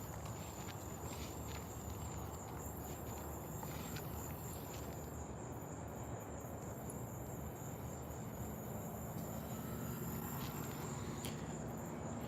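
An unseen insect buzzes its wings without letup in a garden, a steady, fairly faint droning hum with a thin high whine running the whole time beneath light, broadband outdoor noise.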